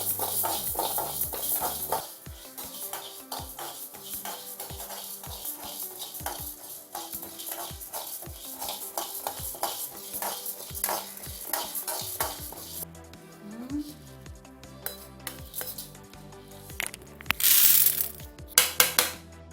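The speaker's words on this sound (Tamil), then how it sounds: "அடுத்தது துவரம்பருப்பு போட்டு வறுத்துக்கிறேன்" Toor dal dry roasts in a pan while being stirred, giving a stream of rattling, scraping clicks as the lentils shift against the metal, with some louder clinks and scrapes near the end.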